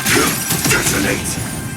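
A detonation attack from Honkai: Star Rail bursts out as a loud, shattering crash with bright crackling debris, layered under a character's voice lines throughout.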